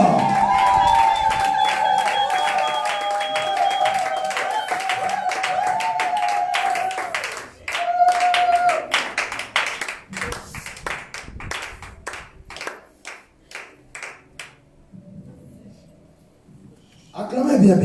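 A church congregation claps and cheers during a prayer service, rhythmic hand claps ringing out around loud singing and shouted voices, the clapping growing sharper and sparser before a quiet stretch.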